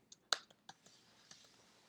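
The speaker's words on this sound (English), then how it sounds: "Notice my good typing right there" Quiet, close clicks of typing on a computer keyboard, a few scattered keystrokes with short gaps, faint and sparse over a low background.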